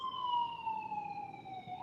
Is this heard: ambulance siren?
yes